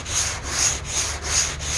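A sanding block rasps back and forth across the hood of a 1970 Chevelle. It gives close, steady abrasive strokes, about four in quick succession, with no talking.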